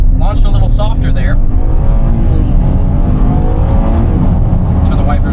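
A Tesla accelerates hard at full throttle on a damp road, a steady loud whine and road roar that hold throughout, with a voice talking briefly near the start.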